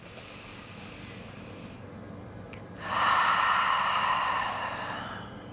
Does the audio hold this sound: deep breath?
yes